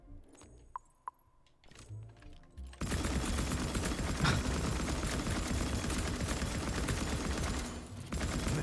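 A dense, sustained burst of rapid automatic gunfire from a weapon in the video game Atomic Heart, loud and continuous for several seconds after a few isolated clicks and shots, with no speech.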